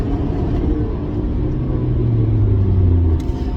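Steady low road rumble from inside a moving car, loud and continuous, with engine drone rising slightly in pitch toward the end and a brief click near the close; no talking.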